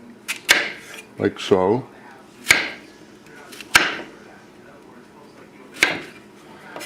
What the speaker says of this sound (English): the zucchini, you can cut it just about the same like the potatoes, or any way you want